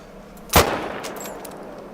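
A single loud rifle shot rings out while hunting deer in Hirschfelden in Hunter Call of the Wild, a sharp crack followed by a fading echo and soft ambient outdoor noise.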